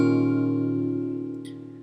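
A guitar with a capo on the sixth fret rings out as a single sustained strummed chord that slowly decays, heard alone.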